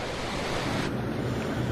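Tsunami wave surge rolling onto Santa Cruz beach, a steady loud wash of surf with wind buffeting the microphone, continuous and unbroken.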